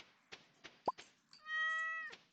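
A cartoon cat meows as it is petted in the Stardew Valley farming game, one clean sustained meow following a few soft taps and plops, alone and fairly quiet.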